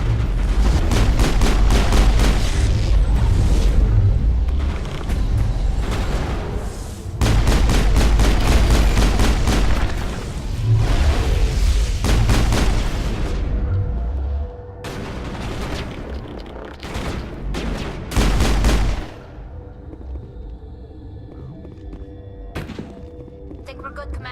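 Sustained heavy gunfire in the game Mass Effect, with dense rapid bursts and booming impacts that run loud for about twenty seconds, then thin out into scattered shots and quieter background.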